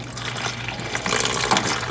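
Coolant splashing and pouring out of a Lamborghini Murciélago engine during removal, a steady close-up watery gush that swells louder toward the end, with a low hum underneath.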